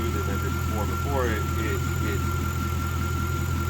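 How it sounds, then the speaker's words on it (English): An LS1 V8 fitted with an MSD ignition upgrade idles steadily and smoothly, a constant low rumble with faint whine close by, while someone talks over it briefly. "The engine's running way smoother than it did before."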